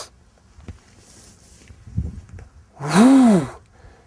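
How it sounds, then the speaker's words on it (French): A single strong breath, likely an exhale, during Systema-style push-ups, swelling briefly and falling away after a faint earlier rustle, close and alone with no talk. "Je peux faire descente en inspire, remonter en expire."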